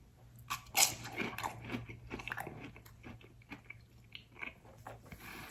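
Crispy fried patatas bravas bitten and chewed close to the mic, with one loud crunchy bite early on followed by softer irregular chewing.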